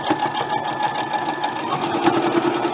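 Sewing machine stitching a Halloween quilt block with glow-in-the-dark fabric, running steadily and close with a continuous rapid whirring hum and rhythmic needle chatter throughout, no talking.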